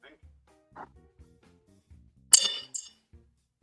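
Ice cubes, three of them, are dropped into a martini glass, making a brief bright clatter of glassy clinks midway through, surrounded by quiet speech.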